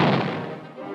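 A heavy naval gun blast opens loud and then fades away as a rumbling boom over a single second.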